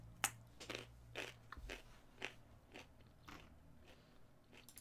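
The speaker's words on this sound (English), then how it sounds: "Okay, more crunching ahead." Quiet series of crisp crunches, about eight separate bites spaced unevenly over a few seconds, close and faint with a low hum underneath.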